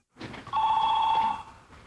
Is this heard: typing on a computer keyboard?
no